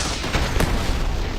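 Rapid gunfire in Starfield during a fight with a creature, a quick burst of sharp reports over a short stretch, loud and close, with a voice partly mixed in.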